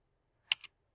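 Two quick keystrokes on a computer keyboard, crisp and close in an otherwise silent room.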